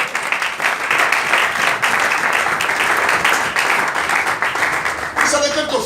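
A church congregation breaks into loud, sustained applause and cheering, a dense wash of clapping and shouting voices from a crowd that carries on for several seconds before easing slightly.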